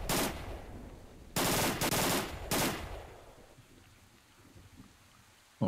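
Bursts of automatic gunfire from a weapon in the game S.T.A.L.K.E.R. Shadow of Chernobyl: one short volley, then two loud sustained bursts close together, fading into a low ambient rumble.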